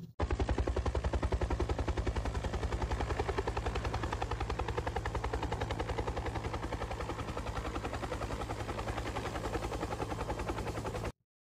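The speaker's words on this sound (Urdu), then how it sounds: "انہوں نے فوراً ایک ہیلی کاپٹر کو سرچ آپریشن کے لیے بھیجا۔" A helicopter flying on a search operation around mountains beats with fast, steady rotor thumps, loud and continuous for about eleven seconds before cutting off abruptly.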